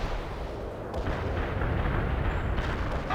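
Artillery strike explosions in the strategy game World in Conflict form a dense, continuous roaring barrage of overlapping blasts and rumbling booms, loud and sustained throughout with no speech.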